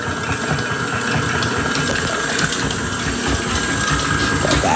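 An electric mixer beating walnut ball dough until light and fluffy, a steady loud whirring drone with a faint rumble, continuous and close.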